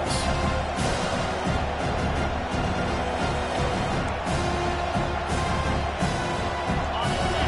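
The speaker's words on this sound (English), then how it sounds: "This crowd, full throat, splitting the eardrums and letting them know it's going to be a long day." A packed stadium crowd roars without a break at a Miami vs Auburn college football game, loud and dense, with swells of cheering and a commentator's voice running over it.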